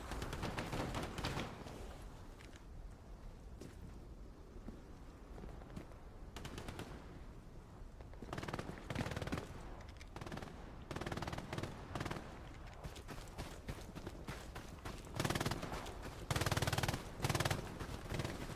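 Rapid, continuous machine-gun fire in the World War II shooter Hell Let Loose on the Tobruk map, with overlapping bursts and scattered single shots at varying distances, some close and punchy.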